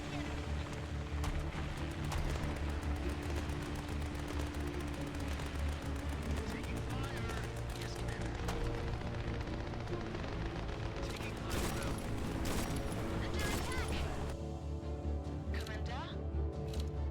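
A gun in the video game Grit and Valor fires rapid, dense bursts of shots, loud and nearly continuous, mixed with other battlefield game sounds.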